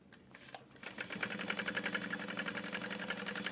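A sewing machine back stitching a couple of times while sewing a handbag pocket: a quiet start, then a steady, rapid mechanical whirring chatter of needle strokes, close and continuous, with no talk.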